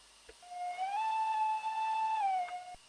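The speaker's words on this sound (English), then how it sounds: "there's a bit of a strange whistle, but what he has done here is he has used the dynamic whistle from the Blue Peter loco" A Manning Wardle locomotive in a video game sounds a whistle borrowed from the Blue Peter loco, one sustained near tone that rises, holds steady for over a second, then dips and cuts off, with faint hiss underneath.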